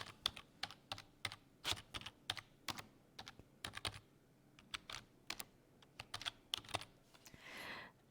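Keys clack on a computer keyboard in quick, irregular bursts of sharp taps, close and distinct, with brief pauses between runs and a softer rustle near the end.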